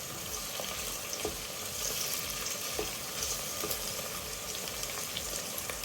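Spices, including bay leaves, sizzle and crackle in hot oil for a Madras chicken curry, a steady close hiss with small pops throughout and no talking.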